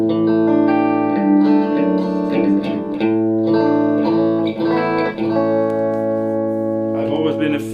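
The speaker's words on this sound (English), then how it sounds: "let's give it some time to warm up. Here it starts humming already." A KOCH tube guitar amplifier warming up gives off a steady, sustained tonal hum with layered harmonics, continuous and fairly loud across the whole stretch, with slight shifts in texture near the end.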